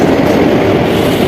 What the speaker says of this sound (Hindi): Howrah Raxaul summer special train Lakhisarai में अराइवल होता हुआ इस साइड से निकल चुका